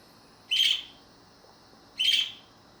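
Leon, a pet parakeet, gives two short, bright chirps about a second and a half apart, close and clear against a quiet room.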